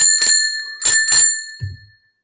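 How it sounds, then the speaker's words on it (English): A desk bell is struck three times in fairly quick succession, each a bright close ring that lingers and fades, followed by a soft low thump; no voices. "I'm going to hit my bell"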